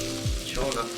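Turkey burgers sizzling in an oiled pan, a steady crackling fry with a brief low thump as one is flipped.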